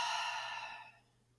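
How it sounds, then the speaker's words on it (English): A single deep exhale through the mouth during a yoga breathing exercise, a soft breathy rush that starts full and gradually fades to quiet. "Exhale through the mouth."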